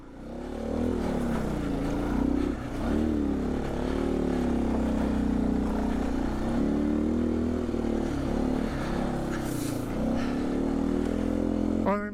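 A 2019 Beta 125 RR-S dirt bike fitted with a 150cc Yamaha big bore kit rides along, its engine droning steadily with repeated throttle swells and dips over twelve seconds, close and loud.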